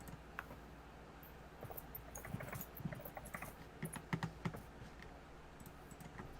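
Soft, quick keystrokes tapped on a chiclet computer keyboard, an irregular patter of close, light clicks that comes in short bursts and never gets loud.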